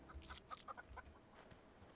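A chicken in The Outer Worlds clucks in a quick series of short, faint calls close by, against a quiet background hum.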